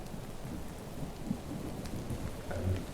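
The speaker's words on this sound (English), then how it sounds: "I just heard this lightning strike coming quite close" Steady rain with rumbling thunder in the game Minecraft, a dense continuous wash of rainfall with a louder low rumble swelling near the end, no voices.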